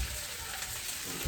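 Vegetables hit a hot pan of shrimp and chicken stir-fried rice with pineapple, giving a steady, close sizzle that fills the short moment without talk.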